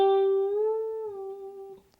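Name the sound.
guitar string bent up a full step at 12th fret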